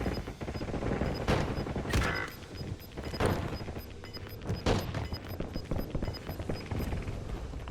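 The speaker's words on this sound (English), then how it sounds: "He changes targets and starts another long-range barrage." Rapid long-range gunfire barrage in the video game Warzone, with repeated sharp bursts and booming shots spaced across several seconds over a dense, noisy battlefield backdrop.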